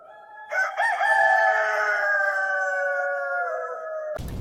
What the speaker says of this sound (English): The image of a rooster crowing at dawn is one shared by nearly every culture on Earth.